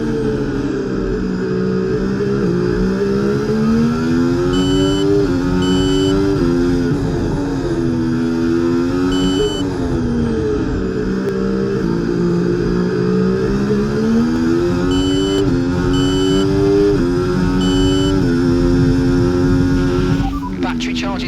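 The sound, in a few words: F1 race car engines accelerating in EA Sports F1 video game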